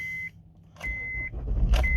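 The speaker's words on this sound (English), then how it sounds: "So let's just start the car up for you." A 2012 Honda CR-V 2.2 i-DTEC diesel starting: a warning chime sounds, then the starter cranks and the engine catches into a rising rumble as beeps continue, close by, no talk.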